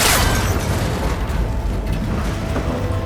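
A gunshot strikes and snaps a cable connector on an ancient, rickety tower in Horizon Forbidden West, giving a loud booming burst at the start that rolls into a sustained low rumble and mechanical clatter, with no talking.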